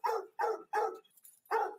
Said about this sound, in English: That's Blue Boy barking up a storm, the good buddy.